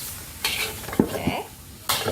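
Noodles with tomato and spring onion being stirred in a pan for Javanese bakmi, giving several scraping, sizzling bursts of stirring separated by brief quieter gaps, close and moderately loud.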